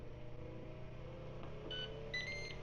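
A Ninja 7 in 1 (IG 651) air fryer's control buttons give two short, high electronic beeps, one after the other, over the appliance's steady running hum.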